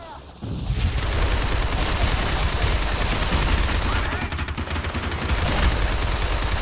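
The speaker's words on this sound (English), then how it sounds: "now you're going to have a guy with a Gatling gun" Sustained rapid Gatling gun fire from an enemy in the video game Shadow Complex, loud and continuous after a short quiet start, with a brief dip in intensity midway.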